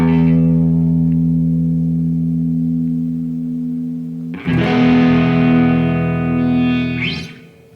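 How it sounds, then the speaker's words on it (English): Low E string on an electric guitar through a Fulltone OCD overdrive pedal, ringing as one sustained, distorted note in standard tuning, then a second louder, brighter attack that rings on and fades out, close and alone. "So here is my low E for your tuning reference."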